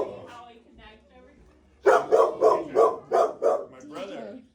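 Puppy at an animal shelter barking in a rapid run of six or seven loud, close yaps after quieter voices talking, ending in a softer whine.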